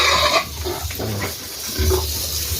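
Pigs on a farm, with several short grunts and snorts at close range, separated by gaps of quieter background noise.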